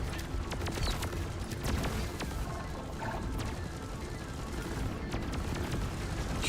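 Dense, continuous gunfire and crashing impacts in Deep Rock Galactic, a steady chaotic barrage with no letup, fairly loud throughout.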